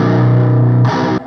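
A Guitar Hero controller converted into a real electric guitar, tuned to drop C, is played through heavy distortion: a loud sustained buzzing chord that shifts to a brighter, harsher note before cutting off.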